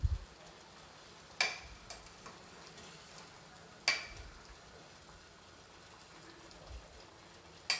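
Paneer balls for rasmalai sizzling gently in a pan, with a few sharp scraping knocks as they are flipped over, against a faint steady crackle.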